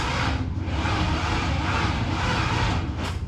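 A 1947 Chevy one-ton truck engine cranks over in a steady, loud, continuous churning drone with a faint rising whine near the end, heard close up and with no talking.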